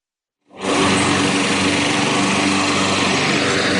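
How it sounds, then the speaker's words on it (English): Lawn mowers hand-mowing the rough on a golf course at the U.S. Open, a high buzzing small engine that starts abruptly after half a second and then drones loud and steady, no talking. "what you may be hearing right now, these are lawnmowers. They are hand mowing the rough here."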